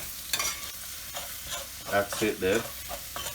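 Egg fried rice made from leftover rice is stirred in a pan of hot coconut oil, with scraping spatula strokes over a soft sizzle and a few louder stirring bursts near the end, plus a brief spoken remark.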